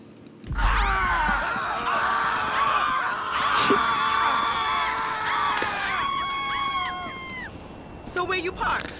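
Screaming in a GTA chaos mod game session, multiple shrill voices shrieking together at length, loud and sustained, with whoops and cries trailing off near the end and talk mixed in.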